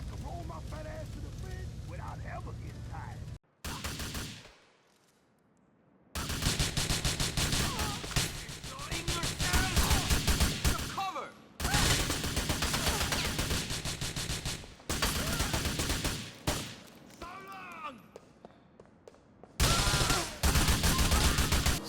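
Gunfire in GTA 4 while picking off remaining stragglers after a bomb blast: dense, sustained bursts of automatic fire and overlapping shots, loud and continuous, broken by a few brief pauses.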